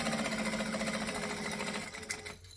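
A sewing machine basting a travel bag seam within the half-inch seam allowance, running continuously and close for a couple of seconds before slowing near the end.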